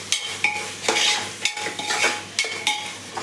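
A spoon stirs and mixes potatoes in a cooking pan with masala rice and fish cooking, giving repeated scraping strokes with light sizzling underneath, close and steady, no voices.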